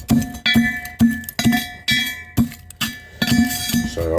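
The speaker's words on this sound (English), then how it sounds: "it's just a matter of smashing it up and down, crushing it all up to ash" Metal pounding in a welded dolly pot, crushing gold-plated corner bags to ash and dust: a steady series of about nine sharp, ringing clinks, each strike followed by a brief metallic ring, close and loud.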